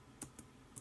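A few quiet, separate clicks from a computer keyboard as an IRC command is typed, three short taps in under a second over faint background hiss.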